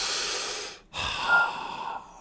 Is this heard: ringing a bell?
no